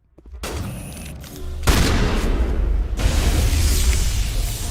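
Rapid, dense gunfire bursts in Mass Effect Legendary Edition, loud and continuous after a brief quiet start, with shotgun blasts mixed into the heavy combat noise.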